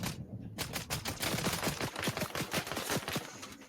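Rapid bursts of video game gunfire in Fortnite, dense repeated cracks close up, irregular rhythm with overlapping volleys throughout.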